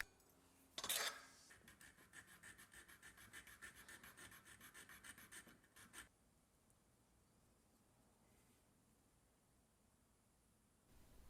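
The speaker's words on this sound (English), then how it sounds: "a little bit of filing will make that into a U-shaped groove" A metal file rasps back and forth on a small metal catch, cutting a U-shaped groove, for about five seconds of steady rhythmic strokes after a sharp knock, then stops into near silence.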